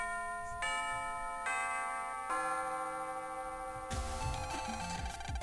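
A school bell chime from the Mega Man Battle Network 2 video game: a sequence of bright, ringing synthesized bell tones stepping through a short melody, then a busier game-music passage taking over near the end, with no talk.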